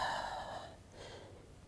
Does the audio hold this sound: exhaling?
yes